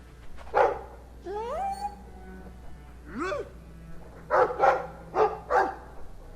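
A dog in the video game Dragon Age 2 gives several barks and yips, with a few whimpering, whiny calls between them, close and clear over a steady low hum.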